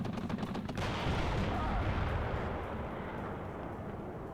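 A TOW2 missile launch in the strategy game WARNO gives a dense, roaring whoosh with crackling blast texture, loud and continuous across the few seconds, slowly tapering.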